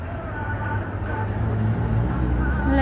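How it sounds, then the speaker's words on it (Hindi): A tram pulls into a station in Russia, a continuous low rumble and rolling rail noise building slightly louder as it nears, with faint tonal whines over steady background hum. "हमारी ट्राम आ रही है गाइस।"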